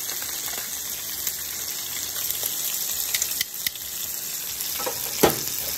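Fish pieces for Jamaican stew fish fry in a pan, a loud steady sizzle with intermittent crackles and a few clacks as pieces are turned, no voices.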